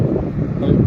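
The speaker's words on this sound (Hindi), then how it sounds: "जो हवा चल रही है यहाँ पर, भयंकर ठंडी हवा चल रही है।" Strong, cold wind buffets the microphone at a bus stop, a steady low roar that fills the whole second without letup.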